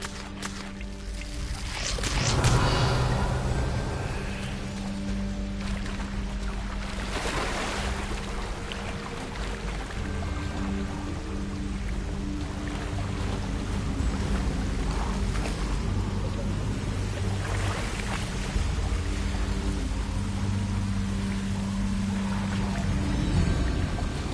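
Steady rushing water from a waterfall in the video game Hogwarts Legacy, a continuous broadband wash that stays loud throughout, joined by a low drone and occasional brief swells.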